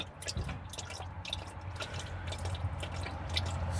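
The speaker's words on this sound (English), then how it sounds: "So the transmission fluid about finished leaking out." Transmission fluid drips from a Mercedes Sprinter van in small, irregular drops, faint and close, with a low hum underneath.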